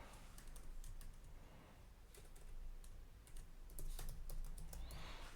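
Typing on a computer keyboard to enter an email address at a Snapchat web login page on a PC or laptop: a steady run of quick, close key taps in irregular bursts, with no talking.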